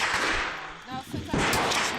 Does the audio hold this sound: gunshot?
yes